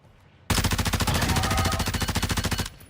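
Sustained automatic weapon fire in the video game DMZ, a single rapid, evenly spaced stream of loud shots lasting about two seconds, close and dominant.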